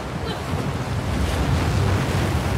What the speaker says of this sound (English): I wonder if I can avoid being hassled by the waves and just kind of duck before they hit